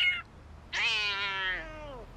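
A kitten in an animated cartoon gives one long, drawn-out, wavering meow after a brief squeak, close and clear with nothing else behind it.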